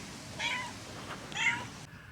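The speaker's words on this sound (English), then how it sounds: "And then we have the farm cat, which is Miss Goldie" A farm cat named Miss Goldie meows twice, close and clear, two drawn-out calls about a second apart with nothing else around them.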